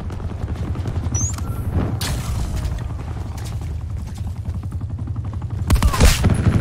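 An LMG in Call of Duty Black Ops 4 rattles out repeated bursts of gunfire, with booming impacts and mechanical clatter throughout and a louder burst near the end.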